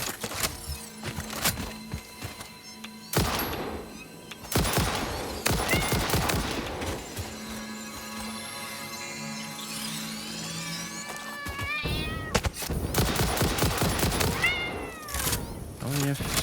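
Gunfire in the video game Satisfactory, sharp isolated shots scattered across the clip between stretches of game ambience, with cat-like creature cries and a voice talking over parts of it.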